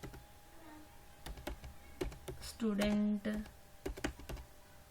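Typing on a computer keyboard while entering student details into an Excel sheet, a run of crisp, irregular key clicks close to the mic, with a person speaking briefly in the middle.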